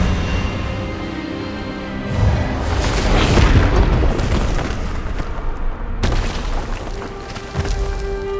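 A spell burst cast in the video game Hogwarts Legacy: a deep booming blast swells and rumbles for several seconds, then a second sharp impact lands near the end, loud and dense with no talk over it.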